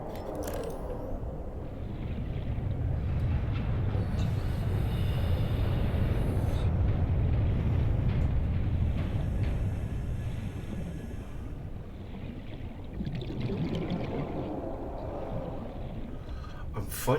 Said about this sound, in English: Cyclops engine.